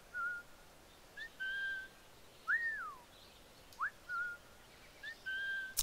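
A calling whistle sounds in the video game Assassin's Creed IV Black Flag: a series of clear, thin whistled notes, some flat and some sliding up or down, repeating over quiet ambience.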